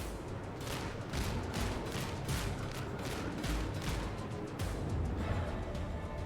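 Rapid bursts of video game gunfire crack out loud and close, one shot after another in a dense, steady barrage over several seconds, with no talking.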